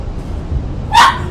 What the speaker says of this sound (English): Let me get the dog.